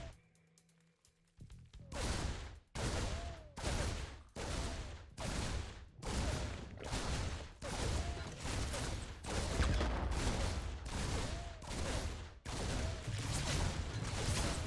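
Two Reapers in StarCraft 2 firing at a Zerg hatchery: a steady series of about a dozen sharp, evenly spaced blasts, each a loud burst with a brief ringing tail, repeating rhythmically after a quiet opening.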